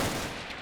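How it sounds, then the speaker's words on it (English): An emplaced heavy machine gun fires in the Combat Mission video game, a dense, continuous burst of loud gunfire filling the whole short stretch without pause. "come under heavy fire from a emplaced heavy machine gun"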